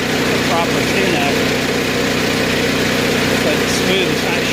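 A 7000 watt Kohler generator engine runs inside a bus at a steady, even drone, close and loud, while a voice talks over it.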